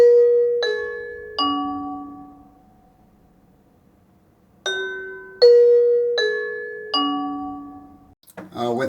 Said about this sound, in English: And the chime is pretty pleasant. I'll go ahead and demonstrate that in here now.